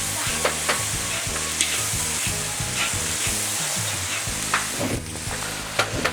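Star anise sizzles and fries steadily in a hot pan with oil, a continuous crackling hiss broken by occasional stirring scrapes, close and loud with no voices.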